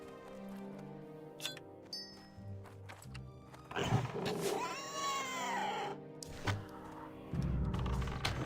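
A hunter's pet cat in the Project Epoch game meows and yowls amid background music, with a longer drawn-out caterwaul in the middle and soft thumps and footsteps around it.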